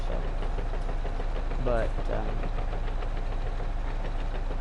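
A bulldozer engine in a farming video game runs in a steady, knocking low rumble with a brief spoken word near the start.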